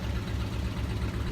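A tractor engine idles steadily in Farming Simulator 22, a constant loud rumble with no break and no talking.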